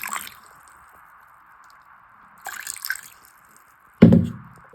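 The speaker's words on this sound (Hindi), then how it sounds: "तो अब इसमें ऐड कर देती हूँ मैं अपना थोड़ा पानी" Water poured into a container over soaking ingredients, with a thin drip and trickle, a short splash near the middle and a louder, fuller gush of liquid near the end. A faint steady hum sits underneath.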